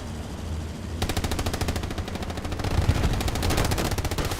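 Rapid machine-gun bursts crackle loudly and continuously in a night battle at Kharkov in the console war game Hell Let Loose, with a brief quieter lead-in before sustained automatic fire.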